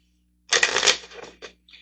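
A brief, close riffle of tarot cards being shuffled, a quick papery flutter followed by a couple of lighter taps as the deck settles.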